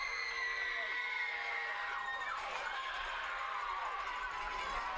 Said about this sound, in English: I'm hearing the cowbells and the hollering and the screaming here on the Coalfield side.